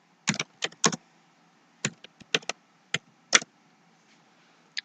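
Keys clicking on a computer keyboard in short clustered bursts, a few quick taps then pauses, close and fairly quiet, with no talk over the typing.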